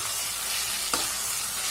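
Potatoes and capsicum sizzle in a pan while being stirred, a continuous close frying hiss with a single brief scrape of the spoon partway through.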